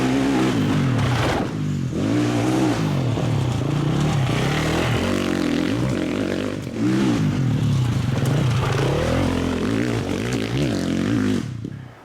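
A Gas Gas trail motorcycle engine revs and drones continuously, rising and falling as it is ridden, loud and close throughout with brief dips in throttle.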